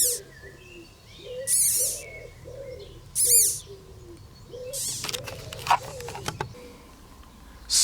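A Rhodinia verecunda caterpillar squeaks when poked, giving several short, high, chirpy squeaks in a loose, repeating series, fairly close, over a quiet background with some handling rustle.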